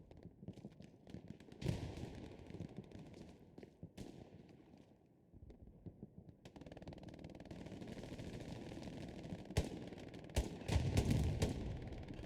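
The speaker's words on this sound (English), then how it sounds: "A few missed shots there from Sledge." Rapid bursts of rifle and machine-gun fire in the World War II shooter Hell Let Loose, a steady battlefield clatter with sharper close shots and a louder flurry near the end.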